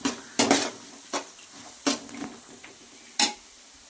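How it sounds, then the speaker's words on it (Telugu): A spoon or spatula scrapes and taps against a pan while grated raw mango is stirred, giving about half a dozen sharp, separate clinks spaced irregularly over a quiet background, close by and without talk. "ఇప్పుడు మనం దీన్ని బాగా కలుపుకోవాలండి."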